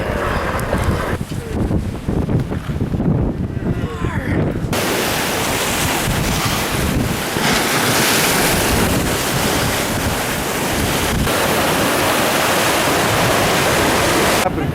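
Ocean waves break and wash up a sandy beach in a loud, continuous roar of surf, with wind buffeting the microphone and surging water close by.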